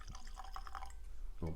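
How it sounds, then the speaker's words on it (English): Yamazakura Japanese blended whisky poured into a glass, a short liquid trickle with soft drips, ending in a louder clunk. "A little pour for you."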